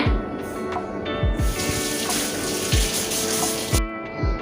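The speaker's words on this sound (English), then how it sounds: "Wash my hands." Tap water runs steadily and loudly into a sink while hands are washed under it, with a few splashing thumps and no talking.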